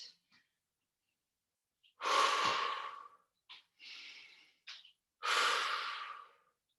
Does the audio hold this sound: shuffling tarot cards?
no